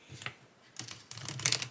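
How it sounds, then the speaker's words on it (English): Flexible tarot cards being shuffled by hand, producing soft papery flutters and bursts of rapid clicking that build into a denser riffle toward the end, close and fairly quiet with no talk. "the bendiness of the cards really helps me shuffle"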